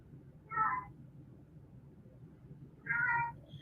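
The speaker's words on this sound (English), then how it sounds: "my cat wants to talk to me really quick" A house cat meows twice, about two seconds apart. Both meows are short and clear, close by, over a low background hum.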